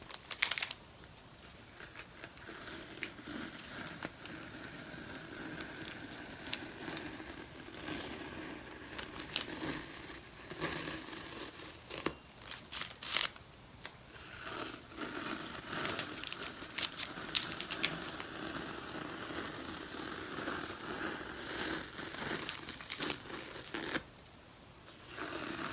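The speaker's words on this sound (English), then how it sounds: "paint actually comes off a little bit when I remove my tape" Painter's tape being peeled off a painted kitchen chair, soft crinkling and tearing rustles in irregular stretches, quiet and close, with a brief pause near the end.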